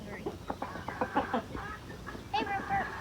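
A hen clucks in a series of short, close bursts at a backyard flock, the rhythmic clucks rising into a longer drawn-out call near the end.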